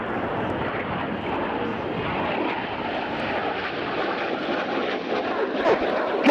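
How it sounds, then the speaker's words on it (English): Red Arrows display jets roar past during a double-roll manoeuvre at the RIAT air show, a loud, steady broadband jet rush that holds throughout with no speech over it. "The aircraft rolling towards each other twice in the double rolls."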